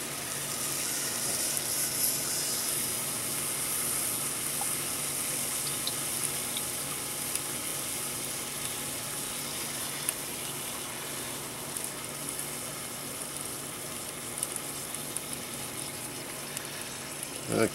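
Chicken stir fry sizzles and fries in a pan on a small pocket stove, a steady close hiss with scattered crackles and pops throughout.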